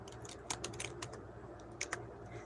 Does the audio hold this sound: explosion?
no